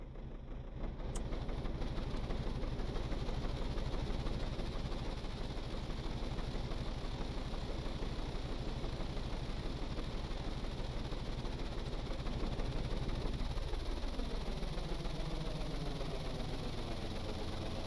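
Engines start and spin up in a spacecraft-building video game: a steady droning rumble with a layered mechanical hum that rises in pitch and builds toward the end, heard alone without talk.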